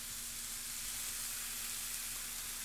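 Oxtail pieces searing in a hot pan, a constant, fairly quiet hiss of frying that holds steady from start to finish without any voices.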